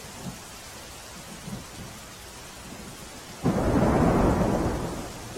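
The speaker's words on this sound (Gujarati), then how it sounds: "સાબરકાંઠામાં પણ અનરાધાર વરસાદ વરસી રહ્યો છે" Heavy rain falls across Sabarkantha with faint rumbles of thunder early on, then a sudden loud roll of thunder and intensified downpour bursts in and lingers to the end.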